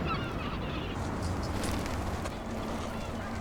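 Vega gulls call at a nesting site, harsh honking cries rising now and then above a continuous rushing outdoor background.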